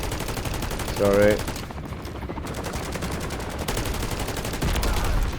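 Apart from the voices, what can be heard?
gunfire in the video game Modern Warfare Zombies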